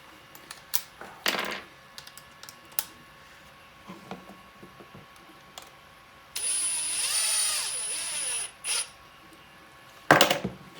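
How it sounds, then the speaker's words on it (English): A small power drill whirs for about two seconds at a steady high pitch among scattered clicks and knocks of plastic parts being handled while a night-vision goggle is assembled. "drills can be strong and break plastic pretty easily"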